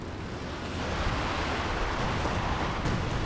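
A Panzerwerfer rocket artillery strike in Company of Heroes 2 lands as a continuous broadband roar of blasts and rumble, steady and loud throughout with no clear separate impacts.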